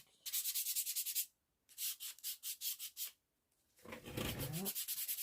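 Hand sanding of wood before painting: three bursts of steady rhythmic back-and-forth strokes, close and fairly loud, separated by short pauses, with no voices.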